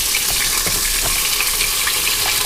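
Cubed groundhog meat sizzles and fries steadily while browning in a pressure cooker, a loud continuous crackle with faint stirring clicks throughout.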